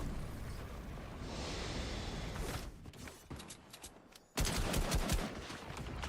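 Shotgun blasts with a heavy, dense roar that swells and breaks off, then a loud burst resumes near the end, played back during a live stream.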